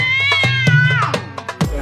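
A cat meows loudly and close, drawn out and tonal with wavering pitch, followed by a few short clicks or thumps.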